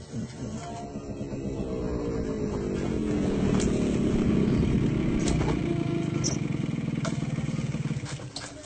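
A motorcycle engine rumbles close by, its low drone rising steadily and holding loud for several seconds as the bike rolls in at night, with no talk over it.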